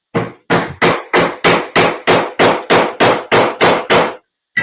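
Hammer repeatedly striking a Nitro V steel knife blade, about a dozen sharp, loud blows in an even rhythm, each ending abruptly, with one last hit after a short pause.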